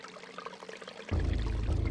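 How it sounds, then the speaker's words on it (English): An urn dunked into a foul-smelling fountain in the Eternal Darkness video game, with a soft splash and then a steady, full pouring gush as it fills, alone. "Dunking the urn into the foul-smelling fountain. It becomes filled to the brim with rank fluid."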